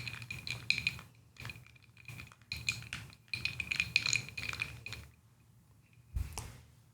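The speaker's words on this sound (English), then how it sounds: "I'm using my cinnamon stick to stir that around" A cinnamon stick stirs a holiday drink in a glass or mug, giving repeated light clinks and tinkling taps against the sides in irregular bursts, close and clear with short pauses between.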